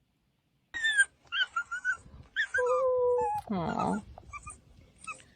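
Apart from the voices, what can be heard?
abandoned dog whimpering in a TikTok video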